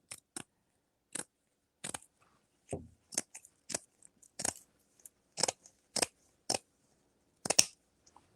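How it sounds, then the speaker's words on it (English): Scissors snip repeatedly through poly burlap mesh, cutting it corner to corner: a dozen or so crisp, close, isolated crunchy cuts in an uneven rhythm, with quiet pauses between them. "I'm going to take my scissors and we're going to cut from corner to corner."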